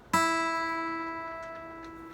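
A guitar's open high E string is plucked with a sharp attack, then sustains alone as a bright, slowly fading tone to the end.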